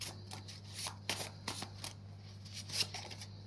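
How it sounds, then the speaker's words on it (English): Oracle cards shuffled and drawn from a deck, producing quick close riffling and papery flicks in short bursts over a faint steady hum, with no talk. "I'm going to just grab one more Oracle card"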